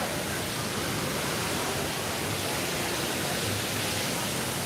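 Waterfalls at Disney California Adventure give off a steady, dense rushing roar that stays unbroken from start to finish, loud and close, with no voices heard.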